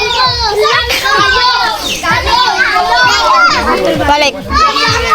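A crowd of children plays noisily close by, with constant overlapping chatter, shrieks and laughter filling the whole stretch without pause.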